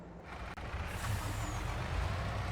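Mack truck in Farming Simulator 22, a steady loud engine rumble with a brief hiss and a sharp break near the start, continuous throughout.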